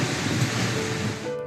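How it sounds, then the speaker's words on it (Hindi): Heavy rain and strong wind during a storm in Lahore, a dense continuous roar of downpour and gusts, loud and steady with no voices. "लाहौर में छाई काली घटाएं, तेज हवाएं चली और बादल खुलकर बरसे"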